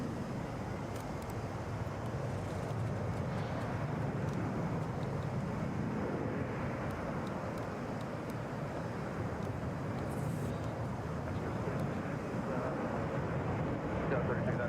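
A Boeing 737 airliner at Atlanta airport gives off a steady, broad jet roar that fills the whole stretch, with voices talking over it.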